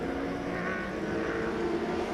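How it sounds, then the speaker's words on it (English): Midwest Sprints race cars powered by 1100cc chain-driven motorcycle engines racing at a speedway, a continuous droning engine roar, moderately loud and steady, with no talk. "your Midwest Sprints powered by an 1100cc motorcycle engine"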